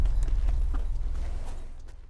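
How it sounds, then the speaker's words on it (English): A lone horse carrying a rider plods along, its hooves clip-clopping in a steady rhythm over a deep low rumble and gradually fading away. "He's just making the journey alone by horse."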